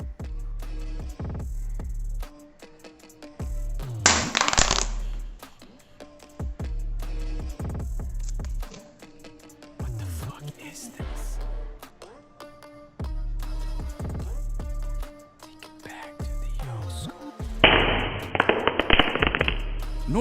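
Redmi 9 Prime smartphone with LCD display, Corning glass and plastic body dropped bottom side down from about 1.6 m, giving sharp cracking impacts among several loud bursts of noise, with no talking.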